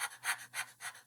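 A person pants with excitement, four quick breathy huffs in a steady rhythm, close and fairly quiet.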